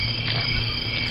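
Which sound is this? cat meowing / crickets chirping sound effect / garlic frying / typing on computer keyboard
crickets chirping sound effect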